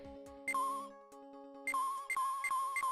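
A cell phone rings in the Ace Attorney: Justice for All video game, a bright electronic tone in repeated bursts over a sustained game music chord, loud and close, with no talking.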